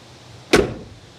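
A 1969 Plymouth GTX Hemi door swings shut with one solid, heavy thunk, loud and close, its low body ringing briefly before fading into quiet room tone.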